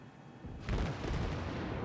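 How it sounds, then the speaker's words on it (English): In World of Warships, a cruiser's 203mm gun batteries open fire. A sudden heavy boom hits partway through, and a dense, rumbling roar of battle noise follows. "Cook starts opening up with his 203mm gun batteries"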